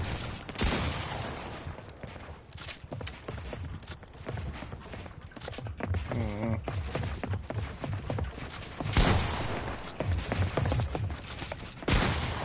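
Rapid gunfire in the video game Fortnite, loud bursts and cracks in quick succession over an ongoing stream of game sounds and footsteps, with a brief rising electronic warble partway through.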